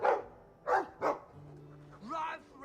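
A dog barking in the video game Dragon Age 2, a few quick yips and barks with a short whimpering tone between them, fairly close and moderately loud.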